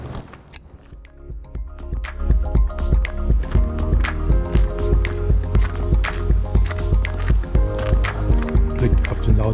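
Rain falls steadily while someone walks downhill on a mountain trail between Wengen and Lauterbrunnen in the Swiss Alps, with a constant wet patter and a regular rhythm of footsteps close by.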